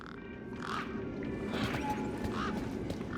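Birds in the video game Beyond a Steel Sky, giving several harsh, squawking honks over a steady ambient background, close and moderately loud.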